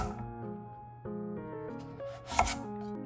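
Knife slicing a carrot diagonally into long pieces on a cutting board, several close, crisp chops in an uneven rhythm, with tonal music playing underneath.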